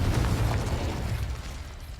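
A Confringo blast spell explodes in Hogwarts Legacy on PS4 as a heavy, low rolling rumble that starts loud and gradually decays over two seconds.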